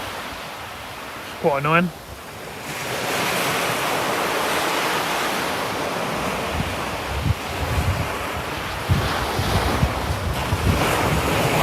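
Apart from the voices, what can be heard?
rough cold wind by the sea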